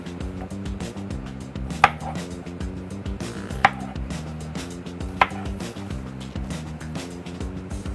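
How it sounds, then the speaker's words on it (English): A knife cuts Brussels sprouts in half on a cutting board, giving three distinct, sharp chops at roughly even intervals over a soft, steady musical background. "We're just going to cut these in half."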